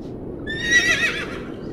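A horse whinnies loudly over steady background noise, its rising neigh clear and close and lasting about a second, while it gallops off pulling a cart.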